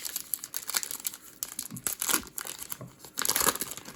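Foil wrapper of a Pokémon Vivid Voltage booster pack crinkles and tears open in a steady run of close, bright crackling bursts, with no talking.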